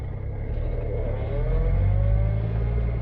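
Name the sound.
Rover 75 P3 car pulling away, first gear whine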